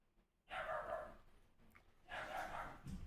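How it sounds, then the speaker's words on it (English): A dog gives two short bursts of barking indoors at moderate distance, each lasting about half a second, with a quiet pause between them and no talk over them. "And my dog's barking."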